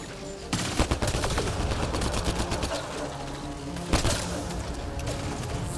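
Gunfire in the video game Mass Effect Andromeda: fast, loud automatic bursts rattle close up, with a heavier impact partway through, amid a busy combat mix and occasional voices.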